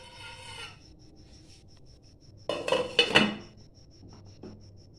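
Ceramic tea cups set into a hot pan and a lid placed over them while baking cake in cups, heard as a brief cluster of clattering, clinking pot-and-lid knocks mid-clip amid quiet background, with a faint later clink.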